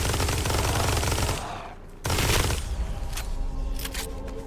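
Rapid automatic fire from a new weapon in the Blood Reaver video game, a dense burst that cuts out, then resumes with another sustained stream of shots and scattered sharp impacts.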